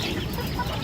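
A big rooster on a small poultry farm gives short, close clucks amid general farmyard noise.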